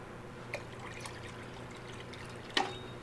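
Water is poured into a pot of avocado dye material: a faint, steady trickle with two brief splashes, one early and a sharper one near the end.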